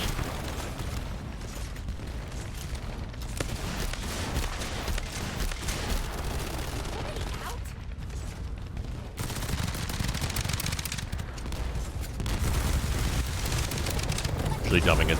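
Dense, continuous automatic gunfire and explosive blasts from weapons in the shooter game The First Descendant, loud and sustained throughout with rapid bursts and booms, a voice talking over the top.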